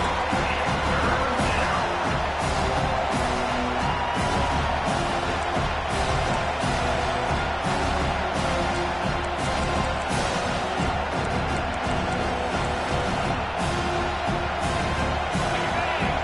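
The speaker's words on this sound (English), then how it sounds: "Listen to this crowd just shaking the girders of this place trying to help their defense." A football stadium crowd roars steadily for the home defense at a Penn State game, a dense, loud, unbroken wall of cheering and noise that fills the whole stretch, with a broadcast voice faintly underneath.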